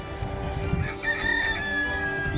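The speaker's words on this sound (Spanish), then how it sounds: "disfrutando del gallo por aquí, que también está feliz" A rooster crows once, not far off, its drawn-out call rising over a background of outdoor noise and low rumble.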